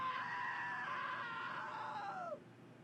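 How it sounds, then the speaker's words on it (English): A long, shrill scream from a character in the video game What Remains of Edith Finch holds for about two seconds, then drops away sharply in pitch. It sounds loud and near, with no talking. "Now that was a great scream."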